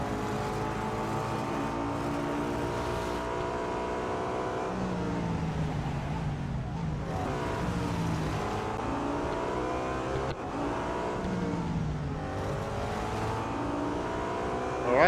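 A BMW M3 GTR race car engine in Real Racing 3 drones steadily at high revs, pitch rising and falling through gear changes and corners, loud and continuous with no talk.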